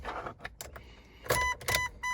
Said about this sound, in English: we have power to the window motor going up, and it stops, goes all down and stops, yet the window doesn't move